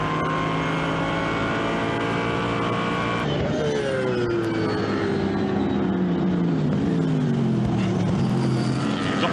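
GT race cars, Aston Martins and Porsches, lapping Silverstone: loud engine drones with rising and falling pitch as several cars pass in close succession, continuous and fairly near, alone without talk.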